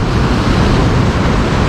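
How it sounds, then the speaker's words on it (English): Ocean waves breaking at a fishing inlet on a rising tide, a steady broadband roar of surf with wind buffeting the microphone, loud and continuous throughout. "The waves are getting a little bit higher."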